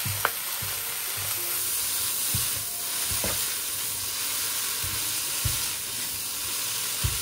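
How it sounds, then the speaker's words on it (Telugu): Boiled noodles tossed on high flame in a hot pan for street-style chicken noodles, giving a steady loud sizzle with occasional scraping and stirring knocks throughout, no voices. "తర్వాత బాయిల్ చేసిన నూడిల్స్ని వేసుకుని హై ఫ్లేమ్లో టాస్ చేస్తూ ఉండండి."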